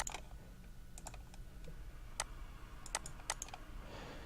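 Computer mouse or keyboard clicks, sharp and sparse, tapping out an irregular pattern over a steady low hum while a hockey positioning diagram is drawn on screen; close and fairly quiet, with no talking.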